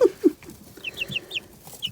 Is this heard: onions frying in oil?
no